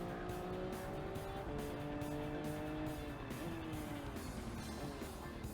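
A car drifting in the video game Gran Turismo 7, with a steady loud engine drone and tire squeal rising and falling through the slide, without speech.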